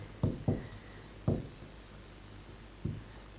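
A word written by hand, heard as a few short, separate strokes spaced unevenly across a quiet background, close and distinct, with no one talking.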